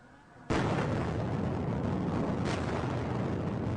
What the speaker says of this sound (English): Explosions throwing huge plumes of smoke and debris in the air